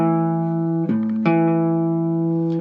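A three-string cigar box slide guitar rings out a sustained chord on its two outside strings, the slide shifting pitch twice partway through, loud and close with no talking.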